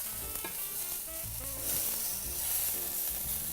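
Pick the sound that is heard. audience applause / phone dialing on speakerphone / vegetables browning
vegetables browning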